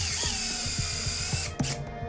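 A surgical power drill at an operating table in a veterinary clinic, driving the last screw into a bone plate on a Sphynx cat's leg, with a steady high whine and rapid ratcheting pulses that slow and stop.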